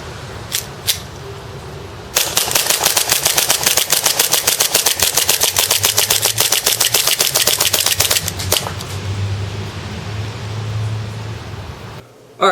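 Two ACM PPK airsoft pistols fire together, a few lone snaps first and then a long, rapid, evenly paced volley of sharp cracks that stops abruptly. The shots are loud and close.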